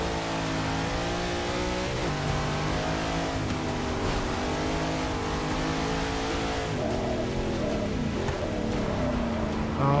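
Race car engines roaring in Forza Motorsport 6 league racing, a dense continuous drone of several revving motors with rising and falling pitch as cars pass close by, loud and unbroken throughout.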